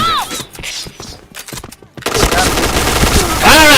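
Gunfire in a tactical shooting game, with a few sharp shots, then a dense rapid burst of automatic fire and ricochet-like whines, loud and close.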